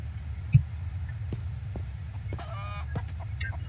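A chicken in the video game Mist Survival gives a few scattered clucks and a short squawk, mid-distance against low background rumble, with no talk over it.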